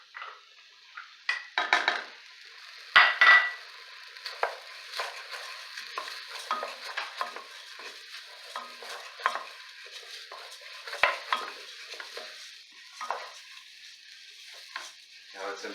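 Rice and about four cloves of garlic toasting in a pan on the stovetop, stirred with a utensil, giving repeated scraping, clinking strokes and a soft sizzle over a steady quiet background.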